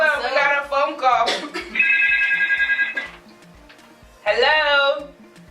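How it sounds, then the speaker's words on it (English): A telephone rings with an incoming call, a steady electronic ringing tone sounding alone for over a second between stretches of loud voices and music. "Hold on, we got a phone call."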